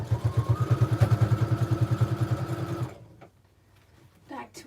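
A sewing machine sews a tote bag side seam, its motor pulsing in a fast even rhythm for about three seconds before stopping; faint handling noise and a brief voice follow.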